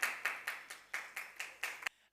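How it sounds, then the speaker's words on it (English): A woman claps her hands, eight sharp, evenly spaced claps at a steady brisk rhythm, close and fairly clear, then the clapping stops abruptly. "She threw the bottle and started clapping"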